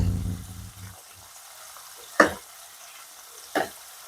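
Zinger burger chicken frying in a pan, with two short sharp sizzle bursts standing out over a quiet low crackle, after a louder low rumble of oil at the start.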